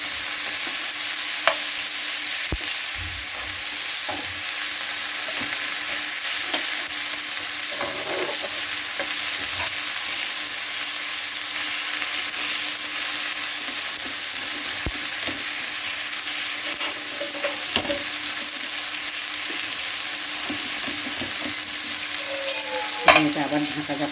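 Mushrooms frying in oil on a shallow tawa over a gas flame make a loud, continuous sizzle, broken by occasional scrapes and clicks of stirring, with no talking.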